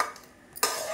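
A spoon stirring mango pulihora rice, tamarind-style rice mixed with grated raw mango, in a pot; a faint scrape, then a louder clattering scrape of utensil against the vessel near the end.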